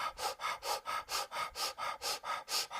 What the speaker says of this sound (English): Let's do a gentle fire breath.